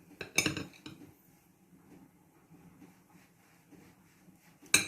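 Knife cutting boiled eggs on a plate, a few sharp metallic clinks at the start and end with faint scraping taps between, quiet and close.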